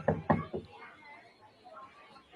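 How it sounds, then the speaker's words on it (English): Several firm knocks on a door, like a heavy police knock: three rapid raps close together, then a pause with faint background talk, and one more knock at the end. "Sounded like a cop knock."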